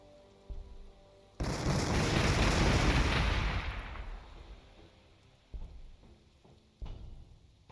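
Heavy gunfire from Warhammer 40,000: Gladius erupts in a loud, sustained roaring burst that slowly fades over a few seconds, with a few sharper separate shots cracking afterward.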